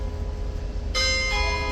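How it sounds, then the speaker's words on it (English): A bell strikes once partway through, its clear ringing tone sustaining over a steady background hum until the end. "There's the bell."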